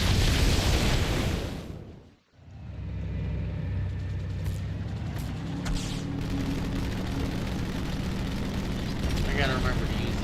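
A rocket explosion in Halo 2 on Legendary difficulty bursts loud and broadband, cuts to a brief silence, then gives way to a sustained rumbling roar with scattered pops and clanks.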